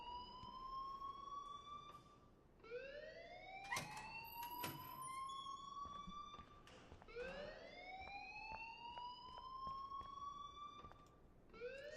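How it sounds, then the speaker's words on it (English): A wailing electronic alarm in the video game Life is Strange, a faint siren that sweeps upward over and over in long, steady cycles with a few sharp clicks between them. "please turn off that alarm since that's your job"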